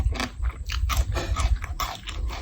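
Close, loud crunchy chewing of khao kluk kapi, Thai shrimp paste rice, with a quick run of crisp bites and mashing chews following one another without pause.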